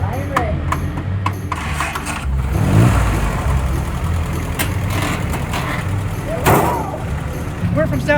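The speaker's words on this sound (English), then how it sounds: "We came all this way just to help you start your Jeep." A Jeep engine runs at a medium rumble, idling with a few revs, while people talk over it close by.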